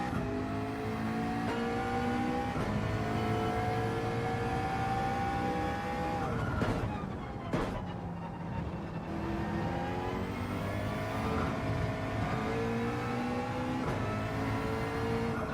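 McLaren race car in Gran Turismo 7 with a loud, continuous engine note climbing and dropping through gear shifts, with a brief lull mid-run before revving hard again.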